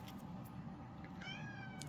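A pet cat meows once, a clear rising and falling call close by, over a low steady household hum with no talk.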